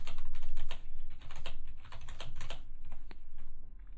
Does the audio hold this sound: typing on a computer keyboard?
yes